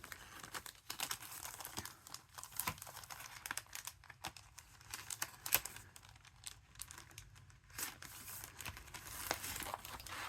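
Paper hearts die cut for a handmade card with a Hearts in Bloom craft kit, a steady close texture of crinkling, rustling and crackling paper with small taps throughout, quiet and continuous.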